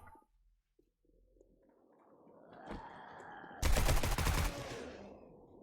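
A burst of rapid automatic gunfire from a gun in the zombie survival game 7 Days to Die (Darkness Falls mod), loud and dense for about a second, with the low game ambience before it building slowly toward it.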